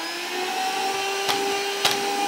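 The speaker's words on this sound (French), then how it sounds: "comme ça tu peux être debout et faire le move de l'aspirateur" Weak vacuum cleaner running with its hose attached, a steady whining drone with a constant hum, interrupted by two short sharp sucking bursts near the end.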